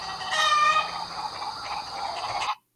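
A chicken clucks and squawks in a short, clear sound effect, a bright rising call held for about two and a half seconds before cutting off abruptly.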